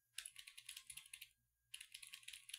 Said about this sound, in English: I'm just typing, which you might not be able to hear as well